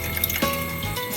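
Water runs briefly from the tap in an off-grid camper, a short close stream with a slight splash and drip, no talk over it.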